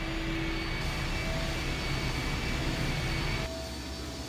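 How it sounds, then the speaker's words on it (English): Steady engine roar in the video game I Have No Mouth and I Must Scream, a loud continuous drone with a faint tonal whine that drops slightly in level near the end. "The engine's starting up again."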